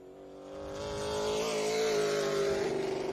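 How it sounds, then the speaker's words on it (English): Race car at Oxford Plains Speedway bouncing off the rev limiter at the end of the front straightaway during PASS qualifying, a loud, steady high-pitched engine wail with a rapid stuttering pulse, building in volume and holding close. "Eddie McDonald hitting the rev limiter at the end of the front straightaway"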